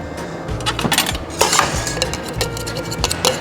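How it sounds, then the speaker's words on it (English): Three or four raspberries being muddled for a Clover Club cocktail, with close metallic clinks, taps and scraping of a muddler against a glass or shaker in a quick uneven rhythm. "I'm gonna go ahead and muddle a few raspberries"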